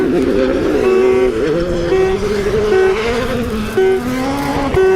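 Hyundai rally car at speed, engine note rising and falling steadily across the clip, loud and continuous, with a sharp transient near the end.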